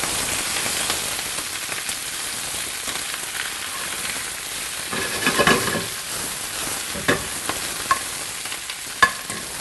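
Leaves tossed in a sauté pan with a small amount of canola oil give a steady, close sizzle and crackle with scattered sharp pops and stirring scrapes, no talking.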